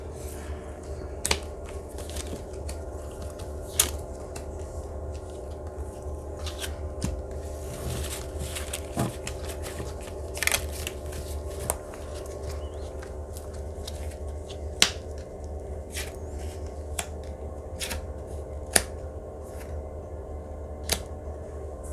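Tarot cards handled on a table: scattered sharp snaps and light shuffling taps, close and sparse, over a quiet steady room tone with no talking.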